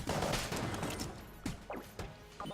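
Rapid bursts of gunfire from the video game Enter the Gungeon, dense at first then thinning into scattered sharp shots, fairly quiet overall.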